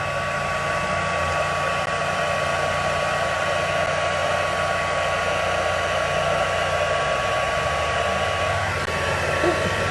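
A heat embossing tool blowing steadily on embossing powder, a loud constant fan-like whir with a high steady tone, close and uninterrupted.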